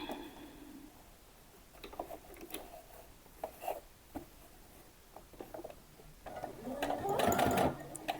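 A sewing machine stitches a summer dress through thick fabric layers, running in short uneven bursts with pauses and soft mechanical clicks, then speeding into a louder, steady whir near the end.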